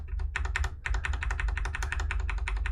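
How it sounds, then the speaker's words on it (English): Repeated presses on a computer keyboard's up arrow key make a rapid run of close, crisp plastic taps, about a dozen in under three seconds, with a short pause near the start and no voices. "I'm just pressing the up arrow"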